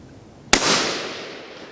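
A single sharp rifle shot rings out at a shooting range, a loud, close crack followed by a long, fading echo rolling away across open ground.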